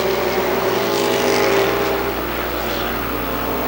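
Stock race cars roar down the backstretch of Columbus Motor Speedway with a Pontiac Grand Prix leading the field, a dense, loud, continuous engine drone that swells slightly as the pack passes.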